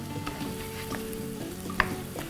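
Tomatoes sizzling in butter on a hot tawa for spicy tawa idli, a constant crackling fry with light scraping of a spatula and one sharp tap near the end, close and even, no speech.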